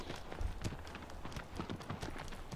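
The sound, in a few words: horse in the Shadow of the Colossus video game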